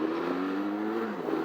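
An adventure motorcycle engine pulling smoothly under acceleration, a steady close drone with a slowly rising pitch, even and continuous with no talk over it.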